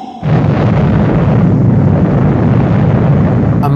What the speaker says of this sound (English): The explosion was the largest ever in human history.